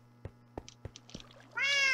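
A cat meows in the video game Minecraft; a few soft clicks come first, then one loud, drawn-out meow closes the moment.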